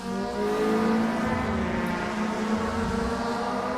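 Race cars in the SRA GTi Challenge roar steadily down the main straight, a loud sustained engine drone with a slight pitch shift as they run close together in the slipstream.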